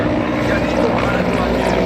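A helicopter departs after its operation at an NCC cadet event, its rotor and engine making a loud, steady broadband drone that holds unbroken throughout, with voices faintly mixed into the noise.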